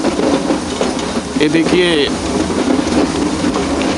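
Train running on the Ooty mountain railway, a steady rumbling and clattering roll with a brief squeal of wheels partway through, while someone speaks briefly over the noise.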